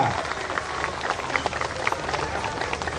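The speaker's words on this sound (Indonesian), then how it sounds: "kita berikan aplaus untuk Bapak Gubernur kita" A crowd at a Jakarta anti-corruption day event applauds the provincial governor, producing a dense, steady patter of many hands clapping at moderate distance.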